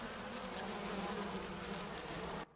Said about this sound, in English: Bees!